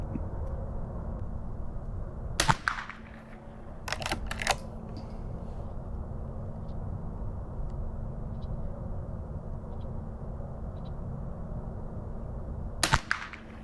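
Three sharp rifle shots from a Marlin 39A firing Federal 40 grain rounds, each a crisp crack with a short tail over steady outdoor background noise, the last two spaced a few seconds after the first.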